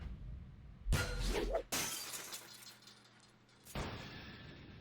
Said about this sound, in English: The door flies open, off its hinges, through the suicide fence and over the side of the building, crashing loudly on the concrete below